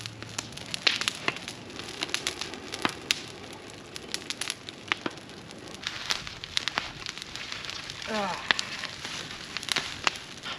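A wood fire in a big fireplace, crackling and popping with sharp, irregular snaps over a soft steady hiss, close and fairly loud throughout.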